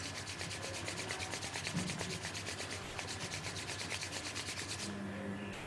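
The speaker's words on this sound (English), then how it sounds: "Rub your palms." Palms rubbing briskly together during a yoga session, a steady rapid swishing friction that stays even and faint throughout with no one speaking.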